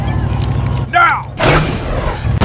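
Gunfire in a staged World War II combat scene at the Battle of Bloody Gulch near Carentan, with two heavy broadband blasts over a constant rumble of battle, shouted voices heard between the shots.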